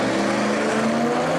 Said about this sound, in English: Here's Joel Steele's red car.